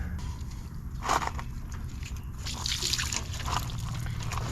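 Fluid trickles and splashes steadily from a disconnected line on a 1946 John Deere BN tractor, a continuous wet hiss with a few louder spurts, no voices.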